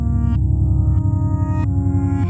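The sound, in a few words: Chase Bliss/Empress Reverse Mode C pedal reverse soundscape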